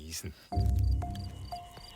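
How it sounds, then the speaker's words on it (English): Male field cricket chirping in short repeated bursts at night, close and fairly loud, following a brief faint rustle. "The male field cricket chirps for a variety of reasons."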